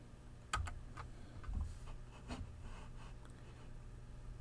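Keys tapped on a computer keyboard as values are typed in, a few sparse quiet clicks and a louder keystroke near the start, in an otherwise hushed room.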